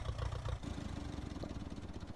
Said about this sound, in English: The sound of the tractor running